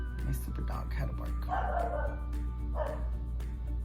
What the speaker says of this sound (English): My super dog had a bark